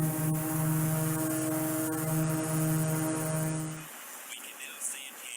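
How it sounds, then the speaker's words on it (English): A drone's rotors drone with a steady tonal hum and harmonic whine as picked up by a conventional microphone mounted on the drone, loud and continuous before cutting out abruptly, leaving quieter noise. "here is a drone. First, you'll hear a conventional microphone on it"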